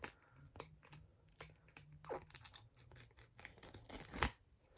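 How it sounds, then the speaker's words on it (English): A small teeth whitening strip package being torn open, close and quiet: scattered short crinkly rips and crackles in bursts, with a sharper tearing snap near the end and no talking. "So I take one of my strips, and then I see if I can get close enough to rip it off."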